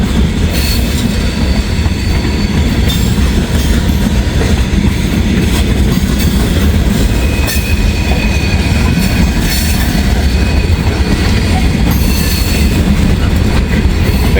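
Freight trains rolling past on the rails through Hamilton, loud and close, with a steady heavy rumble, rhythmic wheel clatter over rail joints and intermittent squeals, continuous throughout with no voices.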